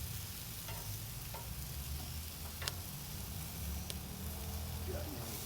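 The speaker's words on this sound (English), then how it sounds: "Flip these jalapenos." Jalapenos and pork sizzling on a grill, a quiet steady frying hiss with a few soft ticks and clicks as pieces are flipped, no talking.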